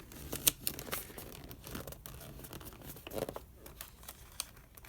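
Paper folded and creased by hand while crafting a DIY bag, heard as close crinkling, rustling and sharp crisp snaps in irregular bursts.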